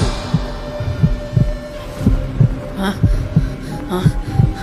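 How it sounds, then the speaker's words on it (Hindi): A heartbeat throbs in a steady, regular double pulse, low and close, repeating about every second under a sustained hum and a dramatic tonal backdrop. "तो अपने भीतर मेरी धड़कन सुन।"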